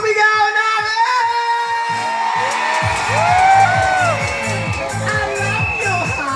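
A rally crowd in Dagupan cheers and shouts in a loud, continuous roar of overlapping voices and whoops, with rhythmic music or chanting pulsing underneath throughout.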